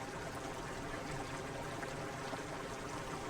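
Flowing stream in the game Obduction, a steady, even rush of water with a soft trickling texture, moderately faint and unbroken, with no talk.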